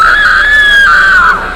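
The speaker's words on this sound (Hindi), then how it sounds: "ये सब देखकर प्रिया जोर से चिल्लाती है" A girl lets out a loud, piercing scream held for over a second, shrill and close, sliding slightly in pitch before breaking off at the end, alone without any speech.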